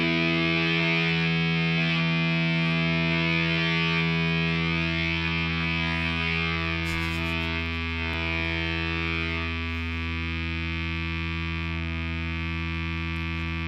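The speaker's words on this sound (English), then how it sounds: "I'm just gonna whack the E string." A single low E string on a PRS 245 electric guitar is struck once and sustains through a Hippie Fuzz pedal, giving a thick, buzzing fuzz tone that holds steady and slowly fades across the whole stretch.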